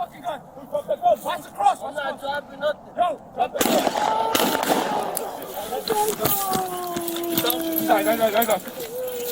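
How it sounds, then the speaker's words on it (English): Gunfire breaks out during an NYPD police encounter: a couple of sharp, loud bangs cut through shouted voices, followed by wavering siren-like tones and continued talking. "Shots fired."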